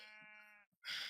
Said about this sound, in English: So if these sheep would just let me talk so loud, but they're important, and they're cute.